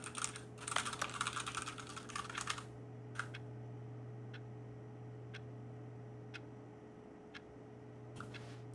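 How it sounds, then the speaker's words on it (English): A computer keyboard gets a burst of rapid, dense keypresses, then a few sparse, isolated clicks spaced a second or so apart over a constant low electrical hum. "I'll press all the other keys."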